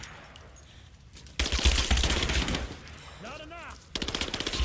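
Bursts of machine gun fire and gunshots ring out in the video game Rise of the Tomb Raider, loud rapid rattling that starts after a quieter lead-in, with someone speaking over parts of it.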